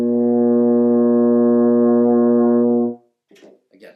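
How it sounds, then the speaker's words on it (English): A euphonium sustains one low concert B flat for about three seconds, a steady, full, close brass tone that cuts off cleanly, followed by a brief voice speaking. "But what we'll do for this exercise is actually start on a concert B flat, which is a little bit lower."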